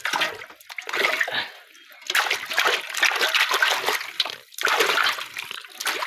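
Splashing water as something is washed by hand, in three loud bursts of sloshing and spattering separated by brief quieter pauses, close by with no talk.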